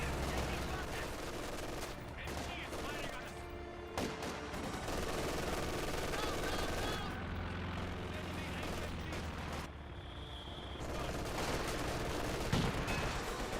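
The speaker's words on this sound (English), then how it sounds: "MG42 suppressing the comm engineers." Rapid, sustained MG42 machine-gun fire in the video game Company of Heroes 2, a dense continuous clatter with scattered battle noise, loud throughout and steady in level across the whole stretch, with a brief sharp burst near the end.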